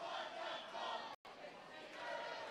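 BCU supporters at a cold-night varsity rugby match against Aston cheer and shout together as a crowd, a sustained, fairly distant roar of voices that is briefly cut by a short gap of silence.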